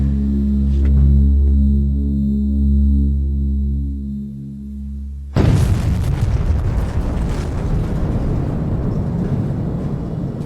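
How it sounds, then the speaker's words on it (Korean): Small household gas explosion in a kitchen after a leak from half a domestic gas canister. A steady low hum gives way to a sudden loud blast, and a harsh roaring rumble follows to the end. "소규모 가스 폭발이 이 정도니"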